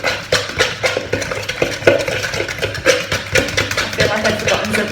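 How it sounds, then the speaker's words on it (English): A fork stirs and mashes egg yolk into cream cheese in a bowl, giving a steady run of soft scraping clicks against the dish at close range, with no talking. "use a fork to mix in the egg yolk and the cream cheese until it's blended up nicely"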